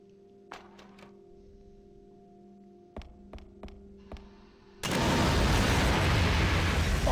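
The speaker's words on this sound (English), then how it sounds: "Gotta bomb this stuff away." Game sound of a bomb going off: a few quiet thuds and clicks over a steady hum, then a sudden loud blast that turns into a sustained roaring rumble.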